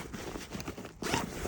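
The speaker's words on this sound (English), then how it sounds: "with the YKK zippers that are on here, it opens up" A YKK zipper is drawn open along a 75-litre Mardingtop backpack, a close, continuous rasping slide that briefly pauses and then resumes louder and faster.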